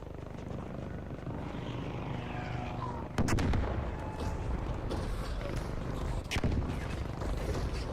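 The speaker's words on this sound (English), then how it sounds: "I just need to shoot that thing one more time" Gunshots in a video game: a couple of sharp, loud blasts stand out over a constant roaring, rumbling backdrop like engines or helicopter noise.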